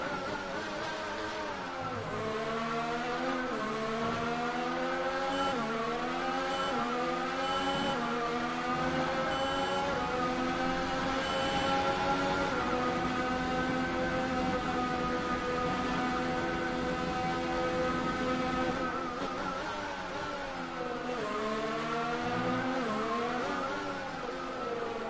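Racing Point Formula 1 car from the F1 2019 racing game at full engine mode, a loud continuous high-revving whine climbing and dropping through gear shifts, steady and close throughout with no talking.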